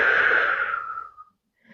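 A single long, airy exhale during a somatic breathing exercise, close and fairly loud, with a slight wheeze. It fades out over about a second, then there is near silence.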